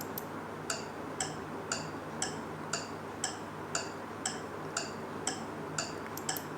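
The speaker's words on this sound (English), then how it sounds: "Some sounds are soft, like tick tick of a clock, that is a soft sound." A clock ticks in a steady, even rhythm, about two ticks per second. Each tick is soft, sharp and close, over a faint background hiss, with no talking.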